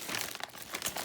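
Plastic bag crinkling and rustling as it is handled, a close, continuous crackle with small bursts of crunching over about a second.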